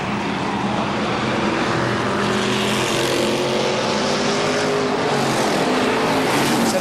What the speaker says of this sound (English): As these group of cars go down the front stretch